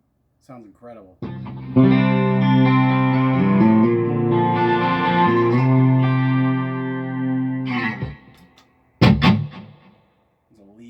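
Mitchell HD400 electric guitar playing a lead line with distortion and effects, sustained bright notes ringing loud for several seconds, followed by a short pause and a brief final strum.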